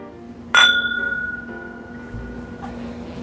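Glasses clink once in a toast with North Korean brandy, a sharp bright chime that rings on and fades over a couple of seconds against quiet room tone.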